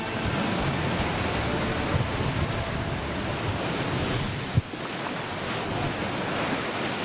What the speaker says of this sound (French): Aujourd'hui, on a des conditions extrêmes, des vents entre 120 et 130 km/h.